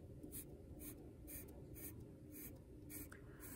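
A pencil sketches lines on paper in short, evenly spaced scratchy strokes, about seven quick scribbles close up and quiet over a faint steady hiss.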